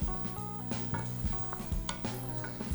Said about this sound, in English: I'll throw a little bit more olive oil in the pan, and we're gonna sort of toast our rice.